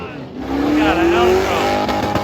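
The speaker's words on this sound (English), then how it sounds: "El Camino burnout vehicle." An El Camino doing a burnout, its engine revving up in a loud rising whine as the tires squeal and roar, close by, with voices over the noise.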